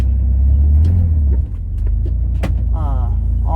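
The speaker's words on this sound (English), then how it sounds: "So, I'm going to back this trailer" A truck rumbles at low idle while backing up a trailer, the deep engine drone loud and close, dipping briefly before settling, with scattered knocks and a short creak over it.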